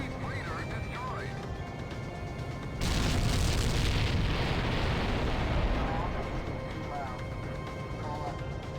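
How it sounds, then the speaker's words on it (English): An enemy freighter is destroyed in the video game Ace Combat X, and a sudden heavy explosion breaks out partway through, then rumbles on for several seconds over game sounds and faint radio-style chatter. "Enemy freighter destroyed."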